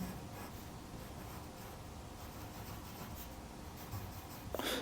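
Pencil lead scratching across paper while sketching the eyelids of a middle-aged face, a steady close dry scraping texture that runs throughout, with a slight clatter near the end.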